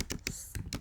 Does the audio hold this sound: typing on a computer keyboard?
yes